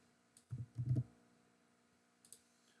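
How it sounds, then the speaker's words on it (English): A computer keyboard clicks in a few quick bursts of typing as a search goes into a browser, close and fairly crisp against a quiet room, with no talking. "So using Google Chrome, we're going to type in Beethoven Doodle Google."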